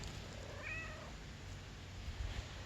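A house cat gives a single short meow near the start, moderately close, followed by quiet room tone and a few faint low bumps.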